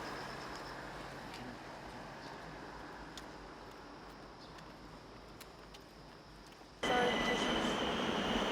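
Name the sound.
subway train at a station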